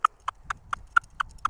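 A horse's hooves clop in a steady sequence of seven evenly spaced hard knocks on firm ground as it steps backward on command, close and clear with nothing else over them.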